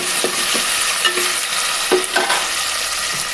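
Curry leaves and chopped tomatoes frying in a hot pan with onions, a steady loud sizzle with occasional stirring scrapes and small pops throughout.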